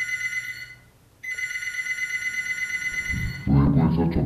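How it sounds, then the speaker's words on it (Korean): A telephone rings with a steady electronic trill in a studio bunker, a repeating tone broken by one short pause, then it stops as voices and noise take over at the end. "벙커에 갑자기 전화가 걸려왔습니다"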